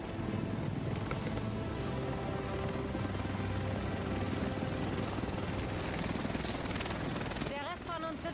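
A helicopter arrives in the video game The Division, a continuous heavy rotor roar with wind-like noise filling the scene, ending with a brief high chirp.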